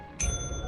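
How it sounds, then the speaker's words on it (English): A bell at headquarters in the video game Lethal Company rings once with a bright metallic strike and a sustained ringing tone that lingers over a low background hum. "if you ring the bell too many times, you may irritate the trash monster"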